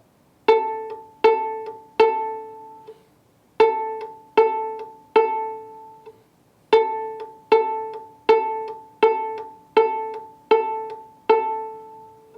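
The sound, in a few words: viola playing open A string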